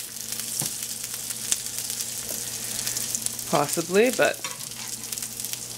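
Vegan potato pancakes fry in a hot pan with a steady, close crackling sizzle that runs throughout, and a person talks briefly midway over it.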